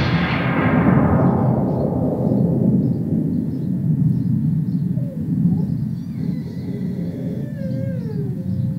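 Stormy thunder-like rumble in a children's theatre play, a broad low roar that swells at the start and rolls on steadily for the whole stretch, loud and close, with faint whistling, wind-like tones drifting above.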